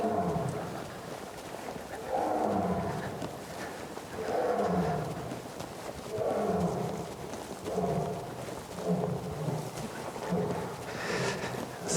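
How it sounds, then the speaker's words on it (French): A male Asiatic lion roars rhythmically to mark his territory, with panthers answering in the background; five or six deep, drawn-out roaring bouts rise and fall every couple of seconds at moderate distance. "Ça, c'est Jetpour, notre mâle lion d'Asie, qui marque son territoire. Et on entend les panthères qui répondent derrière."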